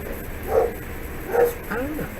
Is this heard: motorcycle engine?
no